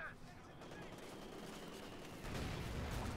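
Tank cannon and machine-gun fire ring out in a Company of Heroes 2 battle, a dense continuous clatter of distant bursts and shots that swells louder near the end.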